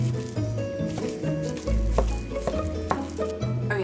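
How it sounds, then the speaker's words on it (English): Hash browns and sausage sizzle steadily in a hot pan during a country breakfast, a dense continuous crackle with scattered louder pops and clatters throughout. "Sounds of breakfast cooking in the kitchen"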